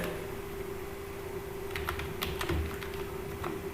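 Light typing on a computer keyboard while entering text into an Excel spreadsheet cell, a short scattered burst of key clicks over a steady background hum, with no talking.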